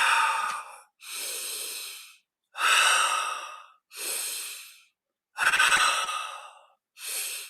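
Slow, deep breaths in a guided breathing exercise come in six long, airy cycles, each breath lasting about a second with short silent gaps between. The sound is close and clear, and no one talks over it.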